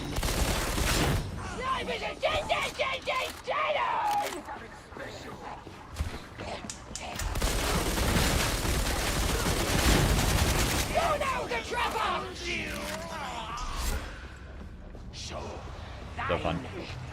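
Gunfire in a video game comes in short tap-fired bursts, sharp close cracks in quick groups with pauses, mixed with other game sounds and a voice talking through much of it.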